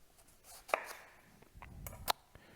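A knife slices through raw eggplant on a board, making a few crisp cutting knocks and soft scraping sounds, close by and fairly quiet.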